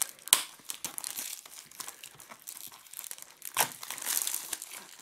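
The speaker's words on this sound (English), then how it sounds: "So off comes the shrink wrap" Shrink wrap crinkles and tears as it is peeled off a black-dial Comtex chronograph sports watch box, with a sharp crackle at the start and another burst later among steady close crinkling.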